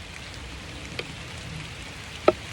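Rain falls steadily outdoors as a soft, even hiss, with a couple of sharper drips or taps standing out now and then, no voices.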